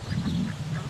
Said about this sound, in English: So I don't know what my ducks are wanting this morning.